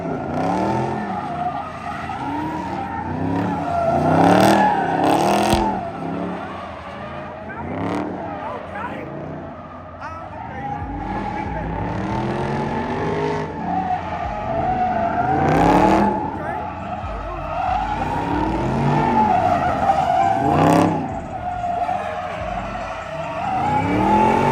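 A Dodge Scat Pack with a burble tune drifting and sliding, giving repeated loud tire squeals and screeches over a roaring, revving engine, coming in close waves again and again.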